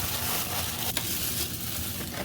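White rice being stirred in a container makes a continuous soft scraping and rustling texture, close to the microphone, with one brief sharper click partway through and no talking.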